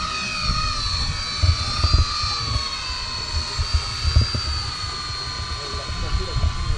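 A multirotor drone flying during a demonstration: a steady high-pitched rotor whine with layered tonal harmonics holds throughout at moderate distance, while someone speaks over it.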